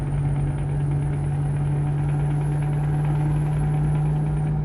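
Scania truck engine in Euro Truck Simulator 2, a loud, steady low drone with a constant hum and faint high whine, running evenly without talk.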